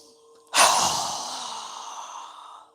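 A single deep breath during a yoga session: a sudden loud intake that turns into a long, steady exhale, trailing off gradually, close and alone with no talking.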